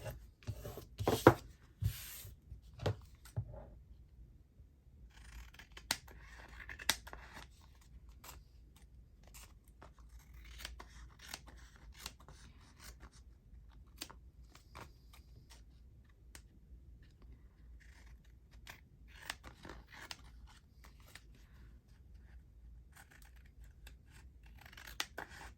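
Scissors snip the corners of paper ephemera in a long run of sharp, close cuts, some quick clusters and scattered single snips, with faint rustling between and no talk.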